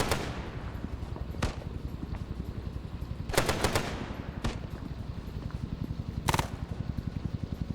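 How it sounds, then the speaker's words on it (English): Guns in a Vietnam-era rescue and evacuation video game fire in rapid automatic bursts, a dense mechanical rattle running throughout with sharper, louder volleys punching through at intervals; nobody speaks. "At least all the guns are firing up at it."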